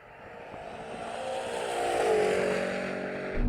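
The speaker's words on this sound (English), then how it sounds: "look at that Cybertruck take off" A Tesla Cybertruck pulls away hard in a race with a rising, smooth whine that swells over a few seconds and then levels off. It is fairly loud and heard alone.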